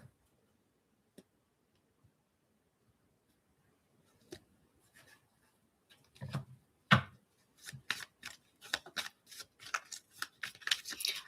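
Tarot cards being shuffled and handled: a few isolated ticks and taps, then a dense run of crisp riffling flicks and card snaps close up, no talking.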